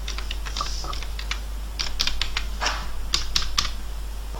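A new password typed on a computer keyboard: quick, irregular clusters of light plastic key clicks, close and clear over a steady low hum, with no talking.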